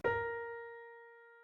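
One sustained flute note on B flat, clean and steady with bright overtones, beginning at once and gently decaying over about a second, played alone.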